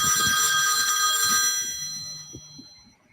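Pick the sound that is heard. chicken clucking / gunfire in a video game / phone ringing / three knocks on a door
phone ringing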